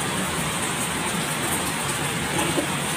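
Steady rain pours outside as a dense, even hiss with no breaks, fairly loud and continuous.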